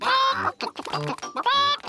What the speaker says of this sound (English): Peppa, George, would you like to feed corn to the chickens?